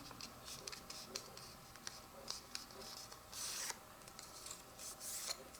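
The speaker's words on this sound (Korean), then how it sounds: "여기 이 띠를 접는 선에 따라서 접어주세요" A paper strip is folded along its fold line by hand, producing soft, close rustles and scratchy creases in uneven bursts, with a few brief crisp crinkles and light taps, under quiet room noise.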